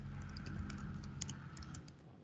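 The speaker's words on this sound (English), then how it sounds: "I'm just typing hello" Someone types on a computer keyboard during a Microsoft Teams webhooks demo: a quick, faint run of key clicks over a low room hum.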